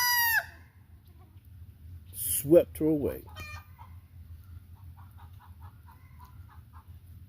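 A backyard hen clucks after laying an egg, several short rhythmic clucks and squawks close by, rising to a louder burst midway then trailing off into softer repeated clucks, with a person speaking briefly at the start.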